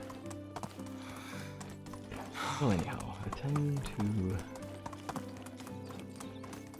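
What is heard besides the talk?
donkey hoofbeats in the video game Medieval Dynasty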